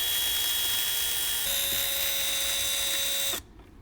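A power driver whines steadily while backing a screw out of a trim panel on a JL Wrangler, shifting pitch partway through, then stopping abruptly, leaving quiet room tone.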